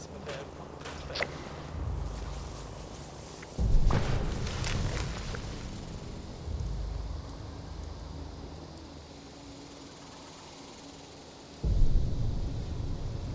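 Thunderstorm in the Fallout 76 wasteland, with steady rain noise and a few sharp crackling lightning strikes. Deep rolling thunder bursts come in near and loud at about 4 seconds and again near the end.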